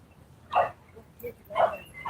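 A husky named Louie barks and whimpers at a lake at sunset, two short yips about a second apart with a softer sound between them, fairly close and clear over quiet surroundings.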